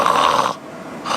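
A loud, close snore from someone with sleep apnea, a raspy obstructed rush of breath lasting about half a second, followed by a brief quiet gap before another snoring breath begins.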